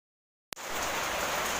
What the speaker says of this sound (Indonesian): Karena di sini udah hujan badai tidak terkontrol